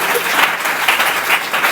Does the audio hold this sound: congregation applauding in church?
yes